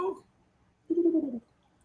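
Robot bird named Bubo giving two brief cooing hoots with a short pause between, soft and close, in a quiet room with no talking.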